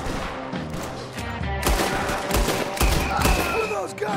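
Rapid gunfire in Red Dead Redemption 2, a dense volley of close, loud overlapping shots cracking in quick irregular succession.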